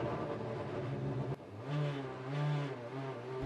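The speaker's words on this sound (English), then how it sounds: "as Antonio Garcia pulls away from the grid, he knows he has the fastest car in the field" Corvette GT race car accelerating away from the starting grid on the Detroit street circuit, a steady loud engine drone that climbs and swells in pitch through upshifts, with a brief sharp break partway through.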